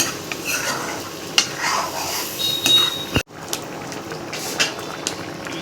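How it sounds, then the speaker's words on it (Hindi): A spoon stirs egg curry masala with added water in a pan, giving close scraping and clinking against the metal with soft bubbling and sizzling underneath. A brief sharp knock and a dropout come near the middle, and no one speaks. "थोड़ा सा पानी डाल के अच्छे से मिक्स कर लेंगे"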